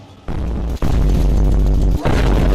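Loud, heavy booms and roaring blasts from rocket launcher explosions in Resident Evil 8, two long sustained rumbling bursts separated by short breaks, close and dominant.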